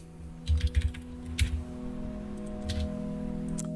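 Quick bursts of keystrokes on a computer keyboard come in small clusters with pauses between them, close and crisp over a steady electronic hum.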